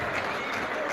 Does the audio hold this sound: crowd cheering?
yes